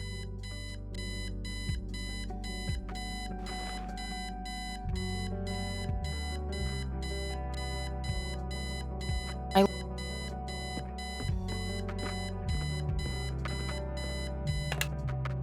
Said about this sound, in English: I set the alarm so you won't miss the funeral